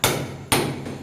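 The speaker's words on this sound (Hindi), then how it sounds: "अब्बू जान ये बड़े वाला हथौड़ा लेके आए तो साथ ही जल्दी से जो है टूट रहा है" Two heavy blows from a large hammer breaking something, about half a second apart, loud and close, each ringing briefly before fading.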